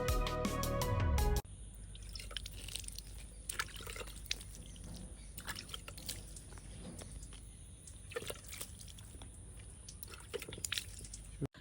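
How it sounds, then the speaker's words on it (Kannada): Ekka (calotropis) leaves are washed in water, giving soft drips, trickles and light splashes that run steadily and close by, after a brief louder burst at the start. "ಸುಮಾರು 10 ಎಲೆಗಳನ್ನ ಈ ರೀತಿಯಾಗಿ ತೊಳ್ಕೊಂಡು ಇಟ್ಕೊಳ್ಬೇಕು"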